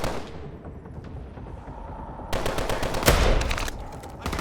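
Gunfire in the video game Call of Duty: Advanced Warfare, a rough background rumble breaking into a burst of rapid shots with one louder crack, dense and close, no talking.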